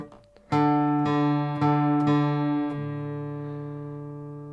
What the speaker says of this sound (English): pluck the D string open, bring it up